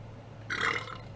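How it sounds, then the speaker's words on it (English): One short, low belch rises briefly out of a quiet room hum, close to the microphone. "Excuse the belch there."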